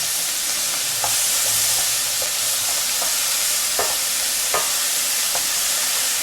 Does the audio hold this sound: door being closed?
no